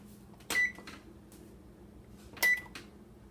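A kitchen oven's control panel pressed twice, each press giving a short electronic beep with a click, over quiet room hum.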